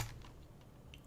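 Soft, quiet taps on a computer keyboard, a few scattered keystrokes heard faintly and close in a brief moment with no talking.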